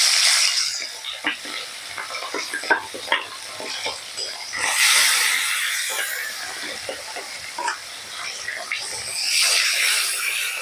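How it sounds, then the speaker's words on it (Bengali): Rohu fish pieces sizzle and fry in hot oil, a steady crackling hiss with rising bursts of spattering and occasional stirring knocks, heard close and loud throughout. "তেল গরম হয়ে গেছে, একে একে মাছের চাকাগুলোকে দিয়ে দেবো।"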